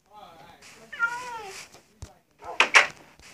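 A pet cat meows a few times, with drawn-out, wavering cries and then sharper short calls, close by in a quiet room with a person's voice around it.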